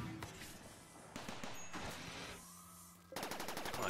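Rapid bursts of gunfire from a Scyther in a sci-fi colony video game, loud, close and sustained in stuttering volleys, with a sharp new burst near the end.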